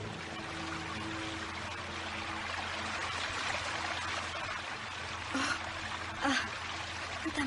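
River water flowing steadily along a riverbank where girls wash clothes and bathe, a soft continuous rush with a few brief splashes near the end.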